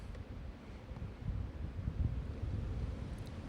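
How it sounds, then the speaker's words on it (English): Strong gusting wind on a golf course, 30 mph sustained with gusts to 42, buffets the microphone in a low rumbling roar that swells steadily louder, with no one speaking. "30-mile-an-hour sustained winds, gust to 42"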